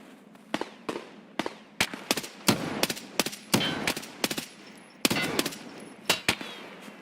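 Gunshots in the video game Escape from Tarkov, a rapid series of sharp, loud cracks with short echoing tails, some clustered in quick bursts and others spaced apart, with no talking.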